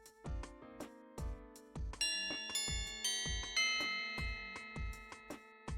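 A bell chimes in a school at the start of lunch period, sounding as a run of repeated ringing tones with regular struck onsets whose tones overlap and sustain, clear and moderately loud.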